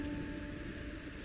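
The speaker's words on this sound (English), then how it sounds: "The first rains fall in light, scattered drops, then gradually grow heavier and steadier, soaking the cracked earth" First rain of the season falling on dry, cracked savanna earth, a steady soft hiss of drops with a low continuous rumble and no voices.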